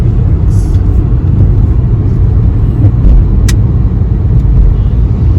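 A Honda City car from Haryana passes on a highway, heard as a loud, steady low road rumble close by, with no voices over it.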